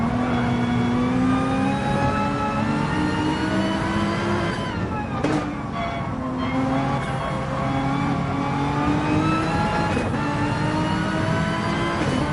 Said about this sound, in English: On board with Drift King in the GTR.